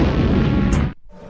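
A cartoon explosion effect: a loud, dense broadband boom that fills about a second and then cuts off abruptly, leaving a faint tail.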